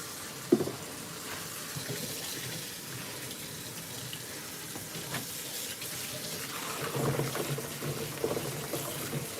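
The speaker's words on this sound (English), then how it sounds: "Rinse that rag out." A cloth rag rinsed under running tap water into a sink of warm detergent dishwater, a steady close rush of flowing water with sloshing and splashing that grows louder toward the end.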